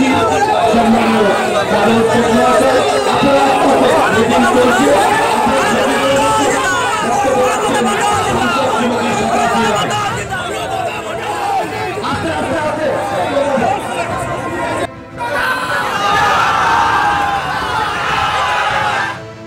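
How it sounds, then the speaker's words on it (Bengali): A dense crowd shouts and chants political slogans at a Trinamool Congress rally stage in West Bengal, loud and continuous with overlapping voices, briefly dipping before a brighter surge of shouting near the end. "যেভাবে স্লোগান চলতে থাকে দুপক্ষের তরফে"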